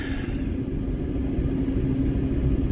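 A car engine rumbles steadily from inside the cabin while driving through town to the gym, a low constant drone with no talk.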